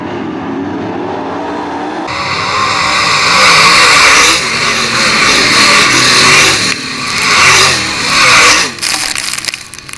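Methanol-burning 410 sprint cars roar around the Attica Raceway Park dirt oval, engines loud and close, swelling and fading as the pack sweeps past, with no voices over the racing.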